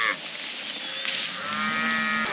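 Cattle mooing outdoors on a ranch: a long, close, loud low moo with a rising tone sounds over a noisy background, with a brief higher call at the start.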